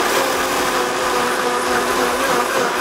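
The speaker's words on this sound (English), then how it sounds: "so we're just gonna blend this up" A blender whirs through protein pancake batter with a steady, loud, continuous motor drone lasting the whole few seconds, close by with no voices.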